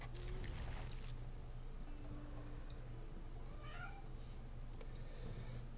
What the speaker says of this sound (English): The cat is being ornery again